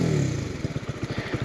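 A Voge R125 motorcycle's small single-cylinder engine idles close by after a brief rev, putting out a quick, uneven chugging pulse with some mechanical clatter.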